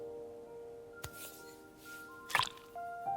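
Glue pours automatically in the video game Assemble with Care, heard as soft drips and squishy plops with a couple of sharper wet hits over a quiet musical backdrop.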